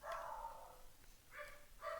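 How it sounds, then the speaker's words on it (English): Dogs bark in short bursts, one volley at the start and two more near the end, muffled and fairly faint as if from another room, with no talk. "The dogs are going crazy."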